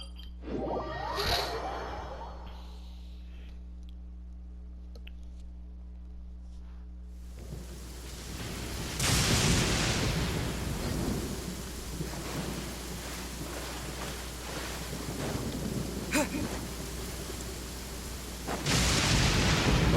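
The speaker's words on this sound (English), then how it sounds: "Almost got struck by lightning." Thunder and rain in the video game Genshin Impact: a sharp thunder crack early on, steady rain throughout, and heavier rumbling bursts with a surge of rainfall around the middle and again at the end.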